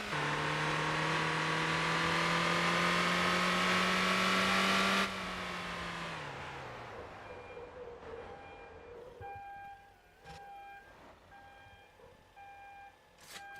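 Enco car engine in the Motor Town driving game, a loud sustained high-revving drone that drops off suddenly, then idles and sputters more quietly with a few sharp clicks.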